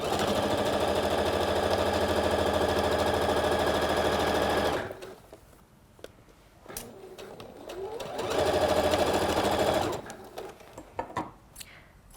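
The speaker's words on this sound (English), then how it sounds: "we're gonna do a straight stitch just to hold those in place" A sewing machine runs a straight stitch along the edge of fabric to hold pieces in place, a steady loud whir for several seconds, then a pause with handling noises before another even burst of stitching.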